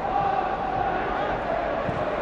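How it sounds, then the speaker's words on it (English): Small band of Inverness Caledonian Thistle football supporters cheering in a Glasgow stadium after a 2-1 match against Celtic, a steady, distant crowd roar with shouts blending into one continuous wash of sound. "the small but happy band of Inverness supporters have something to cheer them on their way up the road"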